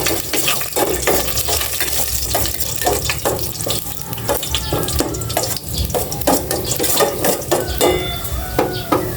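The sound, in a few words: sautéing ginger in oil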